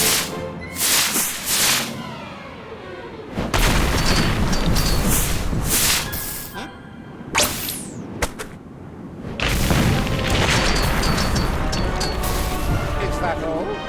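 Cannon fire in The Book of Unwritten Tales, loud booming blasts and crashing impacts rolling through the scene in several heavy bursts, with voices shouting over the din.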